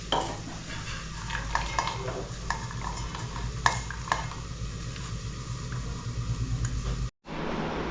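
A vegetable simmers and sizzles in a pan on a low gas flame, with a steady cooking hiss broken by scattered clinks and scrapes of a utensil against the pot, then a sudden brief cut to silence near the end.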